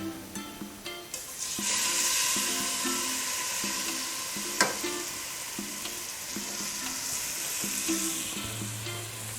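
Chunks of beef browning in a pot for beer stew sizzle loudly and steadily, broken by stirring, a sharp clack of a utensil partway through, and a louder frying burst near the end.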